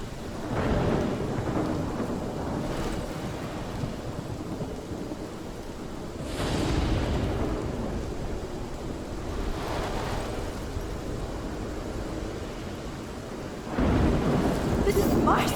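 Thunderstorm in the video game Life is Strange: heavy rumbling thunder and steady rain roar throughout, with louder swelling crashes near the start, middle and end.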